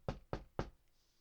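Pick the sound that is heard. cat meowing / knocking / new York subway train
knocking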